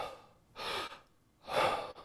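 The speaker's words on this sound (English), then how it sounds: "We'll inhale," Two deep, drawn-out breaths taken for a breathing demonstration, each a broad airy rush lasting about half a second, close and clear with quiet pauses between.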